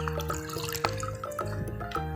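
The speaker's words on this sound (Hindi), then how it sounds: "ठंडा पानी जो है वो शामिल करेंगे" Cold water trickles and drips into a homemade melon seed drink, a light, close liquid patter with small splashes and a faint tonal ring from the container, no talking.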